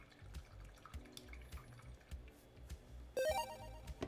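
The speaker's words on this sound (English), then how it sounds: "There's the notification." A short electronic notification chime for a livestream super chat, a quick rising run of bright tones near the end, loud against quiet room noise and light handling sounds.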